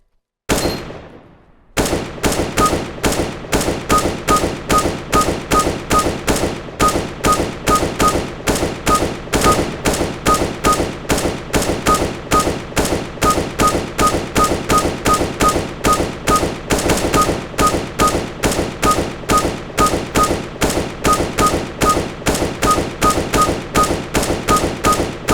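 Sustained automatic fire from an M4 rifle in the game Counter-Strike: Global Offensive, a loud, evenly spaced stream of sharp shots running almost unbroken for over twenty seconds after a brief pause.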